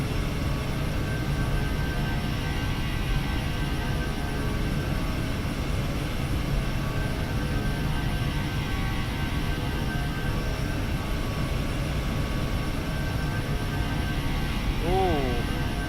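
An MD-11 freighter trijet in flight in the X-Plane 12 flight simulator, with a steady, unbroken engine roar that holds an even loudness from start to finish.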